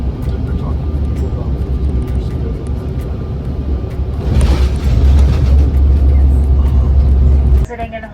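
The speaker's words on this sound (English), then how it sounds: "eventually we were coming in for landing" Inside an American Airlines plane coming in for landing, a loud, steady cabin engine roar and low rumble swell midway, then drop off abruptly near the end, with a faint voice at times.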